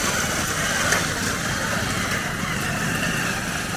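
A Maruti Alto car and motorbikes rolling over a potholed stretch of road produce a continuous rumbling engine and traffic drone, moderately loud and steady throughout, with no one speaking.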